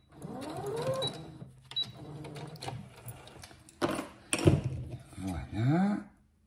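A sewing machine stitches forward and then in reverse to secure elastic on a needle-holder bracelet, in several mechanical runs of rapid whirring with short pauses and clicks between them. A voice talks over the stitching.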